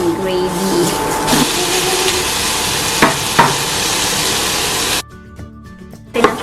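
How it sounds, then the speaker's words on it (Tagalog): Bacon fries in a pan as the start of Thanksgiving turkey gravy, giving a steady, loud, close sizzle with a few utensil knocks before the sound drops off briefly near the end. "Magpa-fry po tayo ng bacon."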